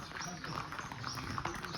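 Horses in Gurez Valley clip-clopping, their hooves faint and distant under someone talking and a broad outdoor wash of noise.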